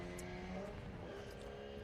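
Race car at the historic Leyburn Sprints, a Reed Speed-entered machine, roars past at close range with a strong rising engine note that briefly swells and holds through the short pass.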